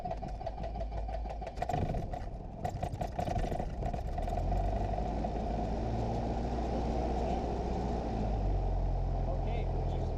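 A small training airplane's engine catches and settles into a steady, loud drone close by, with a low, rumbling hum throughout and voices talking over it.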